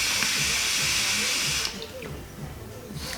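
Vapour drawn hard through a Chaos RDA atomizer set to 50 watts gives a steady, close airy hiss for over a second and a half, then drops to a softer rushing breath with faint crackle.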